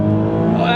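A Nissan 370Z fitted with test pipes pulls hard in second gear, its engine note rising loud and close in a steady harmonic drone from inside the car.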